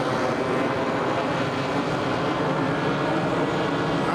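Model F4F airplane engine taxiing out on the ground, a loud continuous buzzing drone with steady intensity for several seconds and no speech.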